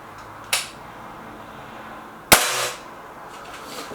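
An air gun fires Norma pellets at a target in two sharp, close cracks a couple of seconds apart, each with a short fading tail over a quiet background.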